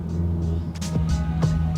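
A car driving the Tail of the Dragon mountain road, heard from inside as a steady low engine drone with a few short bumps and swells, no talking.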